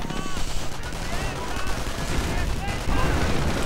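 Gunfire in a World War II strategy game, with MP40 submachine guns blazing amid dense rattling bursts and scattered rifle shots, continuous and layered over battle noise.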